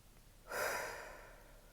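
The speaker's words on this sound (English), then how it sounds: "Take a breath." A person draws one slow, deep breath, a soft airy rush that swells and fades over about a second in a quiet room.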